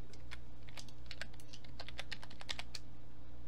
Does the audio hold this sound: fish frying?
no